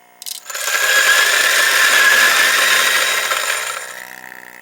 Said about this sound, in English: It's best to start this grinder, get the burrs fully up to speed before grinding.